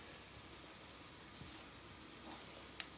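Leeks softening gently in a pan for a quiche, a faint, steady sizzle with a couple of tiny pops and clicks and no one speaking.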